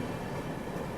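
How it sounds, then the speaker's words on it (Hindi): Tirukkural Express rolling over a level crossing, a steady dense rumble of wheels and carriages holding at even loudness throughout, close by with no voices. "अपने दिन की शुरुआत हुई है तिरुकुरल एक्सप्रेस के साथ, क्रॉसिंग के साथ"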